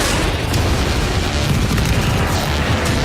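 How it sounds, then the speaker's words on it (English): A missile launch in a naval combat video game, a loud sustained booming blast that fills the whole stretch without pause. "Missile away!"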